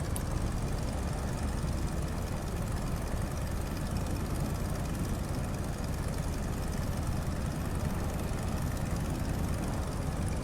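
Stearman biplane in Microsoft Flight Simulator, its radial propeller engine running near or just above idle on a steep approach: a steady, dense, close rumble with no pauses and no voices.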